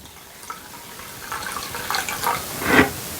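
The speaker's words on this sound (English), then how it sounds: "So I'm going to add 4 more cups of vinegar." Vinegar pours into a sweet pickle solution, a trickling liquid stream that grows fuller and splashier toward the end, close and moderately loud with no talk.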